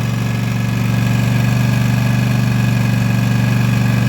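A Husqvarna Z254z zero-turn mower engine running at a steady idle, a close, loud, even throb with a rapid regular pulse and constant low hum, no voices over it.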